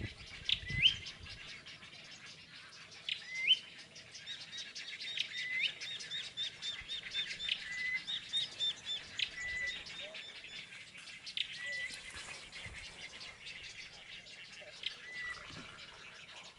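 Many birds chirp and call in a mangrove forest, a busy overlapping chorus of high tweets and trills at moderate distance, steady throughout with occasional louder notes.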